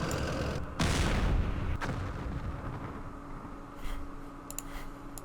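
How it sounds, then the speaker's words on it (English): Weapons fire at missiles in the war game Campaign Series Middle East, with a loud, roaring blast followed by a second sharp report and a continuous rumbling background of combat noise. "Let's fire at these missiles."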